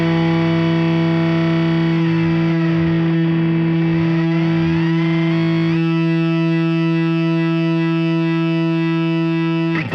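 A sustained E note on guitar through a ring modulator in an Ultrawave multiband processor, buzzing and metallic, with warbling, sweeping overtones that shift and beat before settling into a steady gnarly drone.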